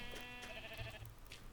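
Sheep in a Minecraft light blue wool farm give short, faint bleats over a low game background. One or two calls sound fairly near, with no talk.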